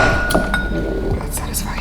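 Plastic ice cube molds clink and tap together in a few bright, quick knocks close by, over a steady room background.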